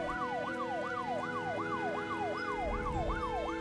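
Ambulance siren in the video game Troubleshooter: Abandoned Children, a rapid repeating wail sweeping up and down in a steady cycle, loud and continuous over a low background rumble.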